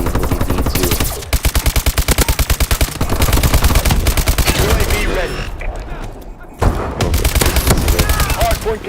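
LMG machine gun fired from the hip in a first-person shooter, rapid rhythmic bursts of automatic fire with sharp repeated cracks, loud and close, broken by short pauses and mixed with game effects.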